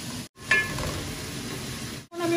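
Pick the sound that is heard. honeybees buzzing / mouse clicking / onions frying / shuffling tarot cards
onions frying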